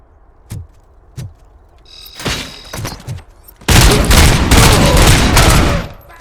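Gunfire in the RoboCop: Rogue City video game: a few sharp isolated shots, then a loud sustained burst of rapid automatic fire filling the last half, close and intense.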